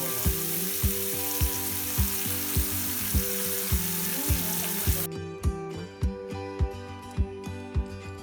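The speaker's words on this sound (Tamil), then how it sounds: "ஒரு 5லேருந்து 10 நிமிஷத்துக்கு லோ ஃப்ளேமில் இதை நல்லா வேக விடுங்க" Chicken cooking in a pan on a low flame gives a steady, close sizzle under a regular thumping beat of background music, with the sizzle fading partway through while the music carries on.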